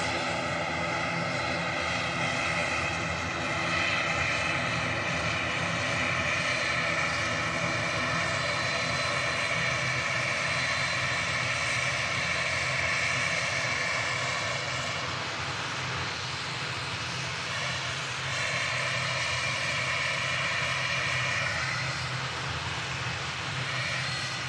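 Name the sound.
airplane landing at Manchester Airport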